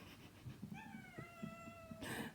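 A house cat lets out one drawn-out meow that rises and then slowly falls, close and fairly clear over quiet rustling, followed by a brief burst of noise.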